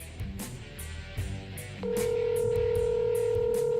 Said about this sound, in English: people don't want to just hear us ringing the phone